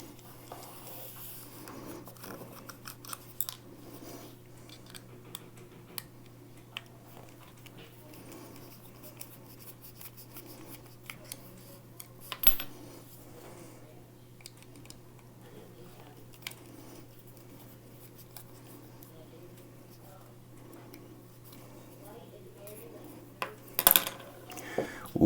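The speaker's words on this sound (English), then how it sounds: "Now I have to take the clip off." Small metal clicks and faint scraping as the pocket clip is unscrewed from an Atom folding knife with textured titanium TRM scales, sparse ticks over a steady low hum, with a couple of sharper clinks near the end.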